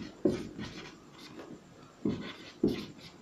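Chalk or marker scratching across a classroom board in a history lesson, a few short rubbing strokes with sharper onsets at intervals, fairly quiet and close, no talking.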